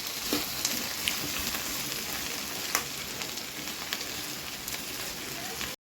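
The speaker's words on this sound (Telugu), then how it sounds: "ఇంకొద్దిగా వేగితే మంచిగా ఉంటుంది" Rava fries in a pan with a dense, constant sizzle and faint crackles close up, and no talking.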